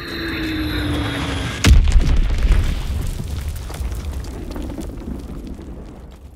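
In the World War II shooter game Call of Duty WWII at Monte Cassino, a sudden loud bomb blast booms out of steady battle ambience, followed by a long rumbling decay and scattered debris crackle.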